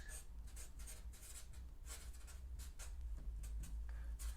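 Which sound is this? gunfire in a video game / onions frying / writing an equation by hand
writing an equation by hand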